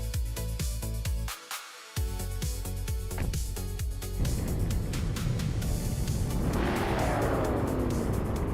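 Several race cars start an AI race in a video game at the Charade 4 kilometers track, engines roaring and revving loudly together, with a brief drop-out before a dense, continuous roar builds.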